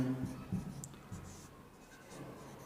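A pen scratches out numbers by hand in a Class 10 math lesson, short scratchy strokes in a loose rhythm, faint and close.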